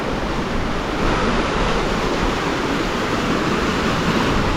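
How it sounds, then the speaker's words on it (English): Two storm-swollen streams flowing together after Storm Erin, a dense, steady broadband rush of water close by, loud and unbroken with a slight wind-like hiss throughout. "Oh, there's two streams. This is where stream meets"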